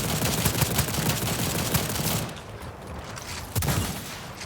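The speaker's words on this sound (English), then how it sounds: "Grenade launcher's interesting. Quite the delay, but it's pretty cool to blow them up." Gunfire and a grenade launcher in the shooter Second Extinction: a dense, loud volley of rapid shots that breaks off briefly, then a sharp burst resumes.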